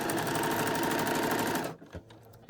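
A sewing machine stitches braid trim onto a skirt near its hem in a steady, dense mechanical whir that runs continuously, then stops abruptly, leaving a few soft clicks and handling noises.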